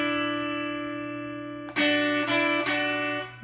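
A guitar chord rings out alone and sustains, then from about the midpoint three bright notes are picked on the open top E string, each a sharp attack over the decaying tone.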